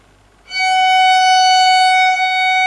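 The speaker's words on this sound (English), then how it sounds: "we're going to be playing an F sharp." A single sustained bowed violin note, F sharp, starts after a brief silence and holds steady and clear, rich in overtones, to the end.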